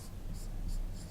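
Chalk scratching on a board during a physics lesson on electric current, four short regular strokes over a low steady room hum.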